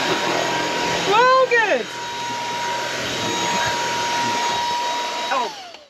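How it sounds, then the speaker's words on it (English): A vacuum cleaner hoovering up a rug inside a camper van, a loud close whine with a pitch sweep near the start, droning steadily under brief talk before winding down at the end. "it's so good that it's just sucked up the rug"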